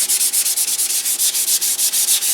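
Wood on a build is sanded by hand in fast, regular back-and-forth strokes, each a loud, raspy scrape, close up and steady with no talking.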